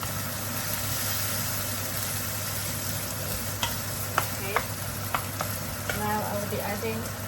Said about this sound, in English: Now I'll be adding the onions. And mix it up with the garlic and ginger.